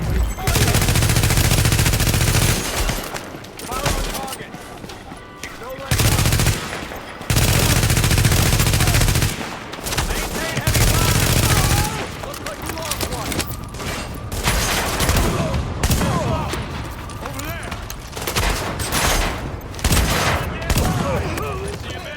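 Heavy, sustained automatic gunfire in Tom Clancy's The Division, loud overlapping bursts and volleys with brief gaps, mixed with in-game voice chatter.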